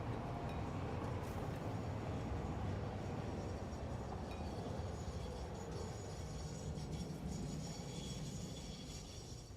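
A train rolls along its track in the factory-building game Satisfactory, giving a steady, fairly loud rumble with rhythmic clatter that runs unbroken and alone, easing off slightly toward the end.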